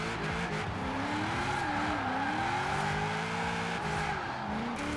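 A GMC Syclone pickup drifting in a racing video game: a continuous loud engine drone with wavering pitch, overlaid by a long sustained tire squeal as the truck slides sideways.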